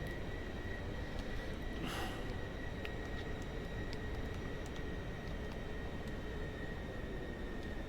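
Steady roar of the Pilatus PC-24 business jet's engines in Microsoft Flight Simulator 2024, a constant, dense drone with a high whine running through it and faint clicks on top.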